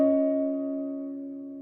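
A guitar chord for the verse of a song, fretted high on the neck around the 18th fret, rings out once and sustains cleanly as it slowly fades, with no voice.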